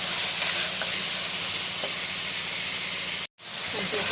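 Mutton sizzles and fries in a hot pan while being stirred, a steady loud hiss with faint scraping and a momentary break near the end.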